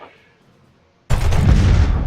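Starships fire a laser volley in Master of Orion, a sudden loud blast that bursts in after a near-silent pause and holds as a heavy, sustained crackling roar.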